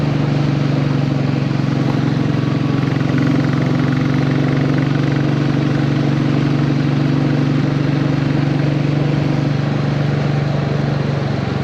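A Royal Enfield Bullet 350 motorcycle engine runs steadily on a sunny ride, its loud, even thump and rumble holding without a break and without any voices.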